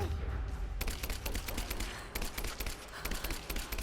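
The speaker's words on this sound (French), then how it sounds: "Ah, j'ai une AK-47." Rapid bursts of AK-47 gunfire in Rise of the Tomb Raider, sharp repeated shots that start after a brief lull and keep coming in quick volleys over continuous game ambience.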